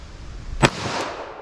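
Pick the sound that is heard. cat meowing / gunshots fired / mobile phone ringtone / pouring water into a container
gunshots fired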